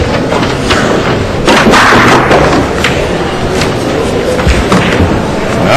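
A pool break shot in a professional match between Rodney Morris and Lu Hsun-Chen, with a sharp cue strike and balls clattering into one another, followed by scattered knocks over steady arena noise.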